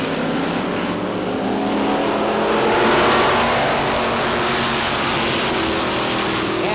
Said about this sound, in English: we'll go green flag racing, another 8-lap qualifier for the Lee USA Speedway street stock set to go